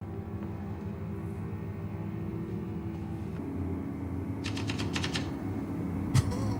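Keys of a typewriter striking in quick bursts over a steady low rumble, with a short cluster of rapid clacks near the end and one sharper hit after a pause.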